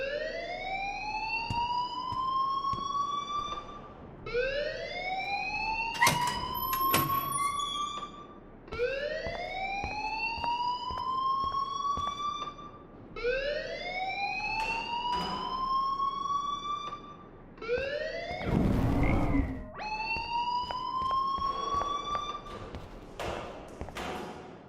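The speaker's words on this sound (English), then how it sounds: "please turn off that alarm since that's your job" A school alarm rings in Life Is Strange, a repeating rising siren-like wail in long bursts with short gaps, loud and steady, with a brief noisy burst near the end.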